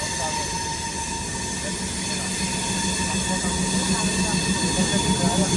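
A train rumbles steadily at Delhi Sadar Bazar railway station, a continuous close, loud drone with a constant hum and faint background voices.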